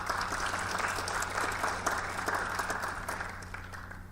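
An audience at a science lecture on energy breaks into sustained applause to welcome the speaker, a dense steady wash of clapping lasting several seconds and tapering slightly toward the end.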